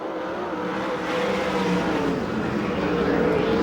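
USAC/CRA sprint cars racing on the dirt track at Perris, California, a loud continuous engine roar that swells slightly as cars pass, with no talk over it.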